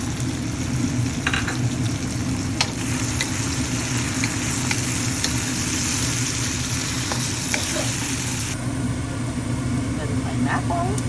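Eggplant frying and being stirred in a pot for sinigang, a continuous sizzle with occasional scraping clicks of stirring and a low background hum, with a voice speaking intermittently over it.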